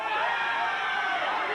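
A crowd cheers and roars at a 1999 Power Pro professional wrestling show, a dense, sustained wash of noise that stays loud and even throughout.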